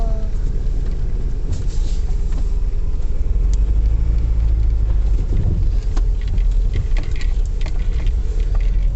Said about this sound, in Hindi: सो अभी हम गाड़ी बैक करते हैं